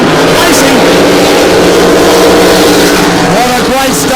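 Formula One powerboat racing with other boats, engines droning loudly and continuously with rising and falling whine, with talk throughout.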